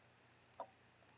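A single computer mouse click, quiet and close, while dragging a point in lighting design software, with a soft double tap and low background hum around it.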